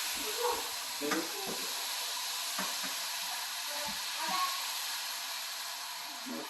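Sweet marsala wine boiling down in a pan for chicken marsala, a soft, steady hiss and bubbling with a few faint clicks, quiet and continuous.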